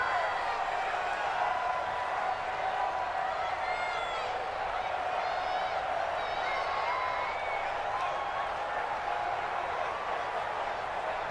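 Stadium crowd noise from an NFL football game in Madden NFL 20, a steady roar of cheering and whooping that swells ahead of a big third down, continuous and fairly loud with commentary over it.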